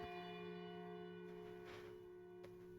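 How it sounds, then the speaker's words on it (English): In the video game Lost Odyssey a village bell peals softly, its sustained ringing tones hanging in the air with a faint extra strike near the end, quiet and distant. "The village bell begins to peal, reverberating with utter clarity through the distant mountains"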